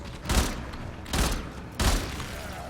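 Gunfire from the player's gun in Warframe, three heavy bursts spaced roughly evenly apart, each a loud booming blast with a short decaying tail over a low background rumble.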